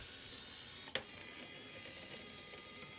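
A mechanical Flappy Bird pipe cart sliding around curves, a continuous mechanical whir and rattle with a single sharp click near the start, close and moderately quiet.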